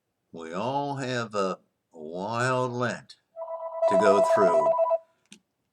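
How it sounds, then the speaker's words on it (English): A telephone rings during a Sunday church liturgy broadcast, its electronic trill cutting in for about a second and a half at a moderate level while a man preaches over and around it. "sorry the phone rang during the middle of this"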